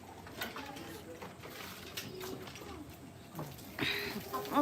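Pigeon cooing in an outdoor setting in Papua, soft repeated coos mixed with background chatter and ambient noise, with voices talking nearby throughout.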